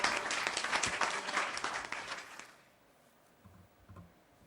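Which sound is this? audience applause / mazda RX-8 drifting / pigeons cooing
audience applause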